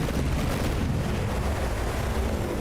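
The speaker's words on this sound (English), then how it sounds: "We had an explosion here inside." Explosion inside a warship in From the Depths, a continuous heavy rumbling roar of blast and fire, steady and loud throughout, with no talking.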